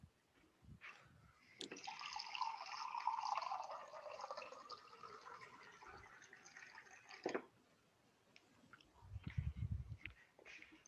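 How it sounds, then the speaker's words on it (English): Water being fetched and poured into a glass, a steady trickling fill lasting several seconds, faint and close, with small knocks and clinks before and after. "I'm actually going to grab some water because I'm really thirsty"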